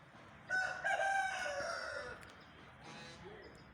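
A rooster of mixed Aseel and desi breeding crows loudly and close by on a poultry farm, one drawn-out call, followed by fainter clucking from the free-roaming hens.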